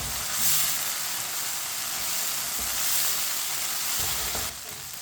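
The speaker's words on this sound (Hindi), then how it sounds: "अदरक को भी 2 मिनट के लिए पका लेंगे।" Chopped ginger sizzles in a hot pan while cooking aloo baingan sabzi, a steady bright frying hiss with soft stirring scrapes, fairly close and continuous, easing slightly near the end, with no talk.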